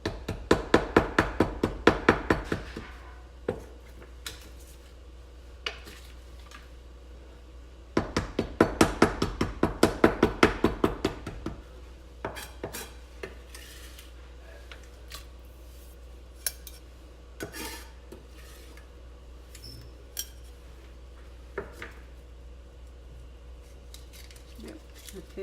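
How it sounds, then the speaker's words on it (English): A knife repeatedly smashing a hard beef bouillon cube, rapid metallic knocks in two dense bursts followed by scattered taps and clatter, close and fairly loud, with a voice talking in between. "It's really hard, so I might have to smash it with my knife"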